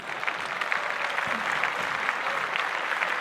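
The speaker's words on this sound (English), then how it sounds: "Clap it up." An audience applauds steadily throughout, a dense patter of many hands clapping at close range with no voices over it.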